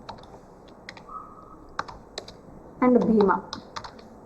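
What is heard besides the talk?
typing on a computer keyboard in MS Word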